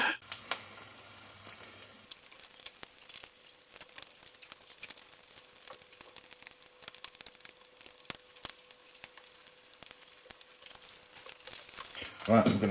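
An egg fries in a small mini frying pan, giving a soft, steady sizzle with scattered crackles and pops close by throughout. A voice speaks briefly at the start.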